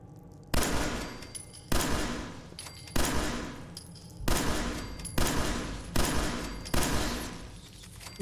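Repeated bursts of gunfire in the video game Fallout 4, about seven sharp loud volleys at roughly one-second intervals, each decaying before the next, with no talk.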